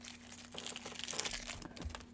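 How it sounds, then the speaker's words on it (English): A taped-up pack of trading cards is cut and torn open with a knife, giving close, quiet crinkling and tearing of wrapper and tape in irregular bursts, with no talking. "Let's get that kniff out. See if we can't open this pack. Brutally open this pack that is taped up."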